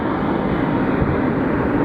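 A UPS Airlines Boeing 747 cargo plane at Phoenix Sky Harbor Airport gives off a steady, loud broadband jet roar that holds constant with no break, with no voices over it.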